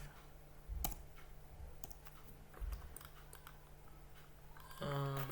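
Scattered clicks on a computer keyboard with a few harder key presses like Enter, sparse and quiet in a room with a low hum, ending in a brief tonal beeping sound.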